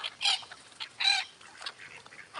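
A duck being fed gives two sharp, close quacking calls, followed by softer rustling and faint scattered sounds in a quiet outdoor setting.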